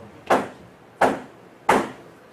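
Three evenly spaced knocks on a door at night, sharp and close, each hit ringing briefly before the next in a steady slow rhythm against quiet.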